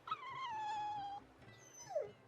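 A dog in the video game Tales of Berseria gives a long, drawn-out whimpering whine, then a shorter whine that falls away. Both are fairly close and clear, with no talking.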